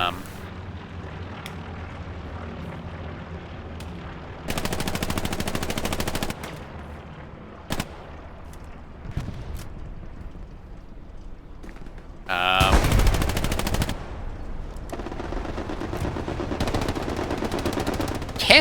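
Tommy gun machine-gun fire rattles in loud, sustained bursts during a large Broken Arrow video game battle on the Hurtgen map, mixed with other gunfire and explosive blasts.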